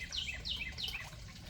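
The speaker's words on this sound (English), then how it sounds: "can you hear those birds?" Birds singing in a back yard, three quick bright chirping phrases repeated in a regular rhythm, fairly close and clear over a soft background hiss.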